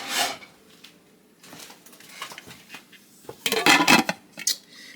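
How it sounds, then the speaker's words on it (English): A lid clatters onto a slow cooker holding black bean beef chili: scattered light ceramic and metal clinks, then a louder rattling knock as it settles, close by with no talk. "I'll put the lid on it."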